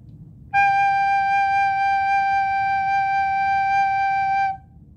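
A recorder holds a single steady note G, fingered with the thumb and top three holes, sounding clear and sustained for about four seconds before stopping cleanly.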